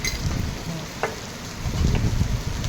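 Curry leaves sizzling and crackling in hot oil in a pan for aloo gobi, a steady close frying hiss with faint spatters and low rumbling, no talk.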